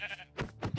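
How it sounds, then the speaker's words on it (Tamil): Sheep bleating in Minecraft, a couple of short nasal bleats close by, one after another, with no talk over them. "ஆடு சவுண்டு இங்கே நிறைய கட்டிச்சு"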